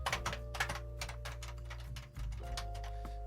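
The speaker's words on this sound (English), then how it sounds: "now we need to type our username" A username gets typed on a computer keyboard as a quick, steady run of crisp key clicks. The clicks sound close, over a low electrical hum, with a brief pause near the middle before the tapping resumes.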